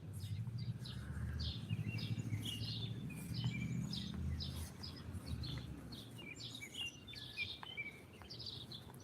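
Repeated short bird chirps and tweets, fairly clear and close, recurring in a loose irregular rhythm over a low rumbling background that fades about halfway through.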